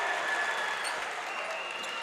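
A high school boys' basketball crowd at a District 9 3A championship game cheers and applauds after a basket, a steady wash of clapping and shouting at moderate distance with no clear talk.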